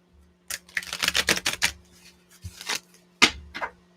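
Cards being shuffled for a reading, with bursts of quick, crisp riffling clicks close up, separated by short pauses, and no voice.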